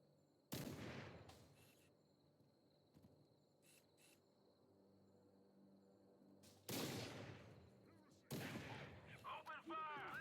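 Gunfire in the Halo video game: three loud, sharp bursts of shots at the start, middle and end, with a steady insect-like chirring and faint ambient noise between them.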